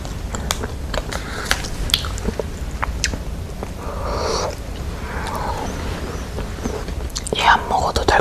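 Close-miked chewing of an Udo peanut choco chalddeok pie: soft, sticky, squishy bites and mastication repeating steadily, with occasional whispering.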